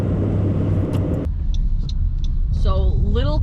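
Car rolling along a dusty gravel road near Little Cove, Tobermory, a steady low rumble of engine and tyres close by, with a person speaking briefly over it near the end.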